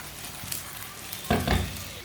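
Food frying in hot oil on a stove, a steady close sizzle with a couple of louder crackling bursts near the end; no talking.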